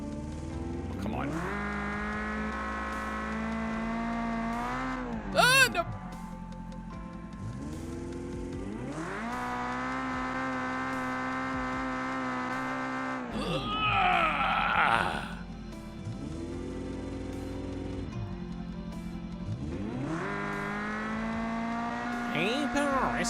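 A car engine in a driving game revs up through the gears in long sustained rises, with bursts of tire squeal, repeating several times. Someone speaks briefly over the engine noise.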